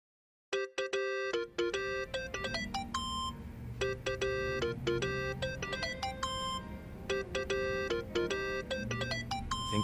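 A melodic phone ringtone from the video game Yakuza: Like A Dragon plays as repeated bright chiming note patterns, loud and steady for nearly ten seconds over a soft low in-game background hum.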